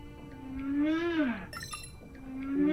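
Deep, sweeping whale calls from the underwater video game Beyond Blue rise and bend over a low ocean hum, with a second call starting toward the end.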